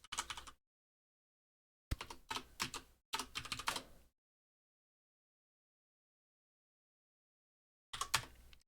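Someone types a URL on a computer keyboard in several short bursts of quick clicking keys, with silent pauses between, close and clear.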